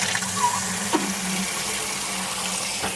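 Water pouring from a tap into a rinse bucket for a car wash, a steady, close splashing fill with a faint hum and a few soft knocks.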